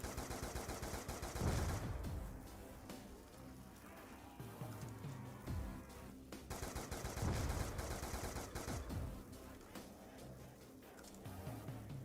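Rapid bursts of SMR rifle fire from a video game, dense crackling shots repeating in loud volleys across the whole stretch with brief lulls between.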